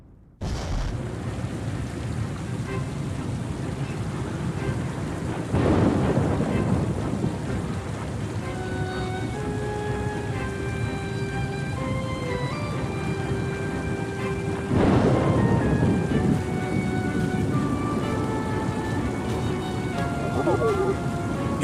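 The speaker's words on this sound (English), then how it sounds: "It began on a dark and stormy night" Thunderstorm in the video game Oceanhorn 2: steady heavy rain with two loud rolling thunder crashes, plus sustained musical tones over the storm.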